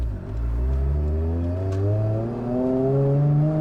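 A Toyota Supra engine revs up under acceleration on a drive, its steady climbing tone loud and close, with no talk over it.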